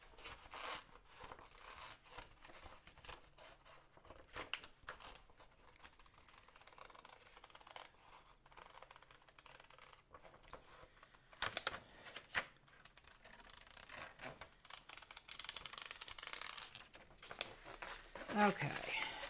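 Scissors cut a paper figure out close by, with crinkling paper, snipping and rustling that grows busier toward the end while a person keeps talking throughout.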